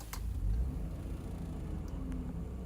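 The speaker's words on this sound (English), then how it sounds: "let's start this SUV up" A 2004 Hyundai Santa Fe GLS SUV engine starting up, with 186,728 km on the odometer: a brief click, then a low rumble that settles into a quiet, even idle heard from inside the cabin.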